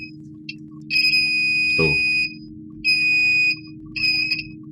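Continuity beeps from a multimeter probing a shorted Samsung Galaxy J2 Prime SM-G532G phone board: three steady high-pitched tones, the first long and the others shorter, over a low hum, with a brief spoken syllable.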